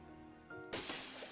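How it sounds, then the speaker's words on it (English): In a video game, a glass window shatters suddenly after a quiet, humming musical backdrop, with a sharp, bright crash that spreads into a spray of tinkling fragments, close and fairly loud. "Suddenly, you hear a sound of glass breaking."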